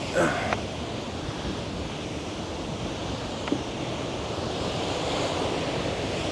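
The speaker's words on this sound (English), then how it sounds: "This stream of water coming right from the mountain." A stream of water flows down from a mountain in a steady, close rushing wash, constant and even in loudness, broken only by a couple of faint clicks.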